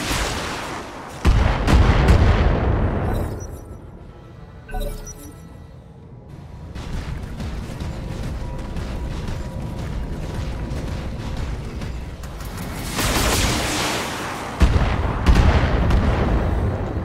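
Weapon fire rumbles against a turret in the BattleTech video game: heavy booming blasts with a long roar, a mechanical drone through the middle, then another loud burst near the end, with no talking.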